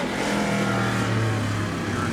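A race car engine idling and rolling toward staging during drag racing qualifying, a loud, steady droning rumble with a sustained low hum and no break.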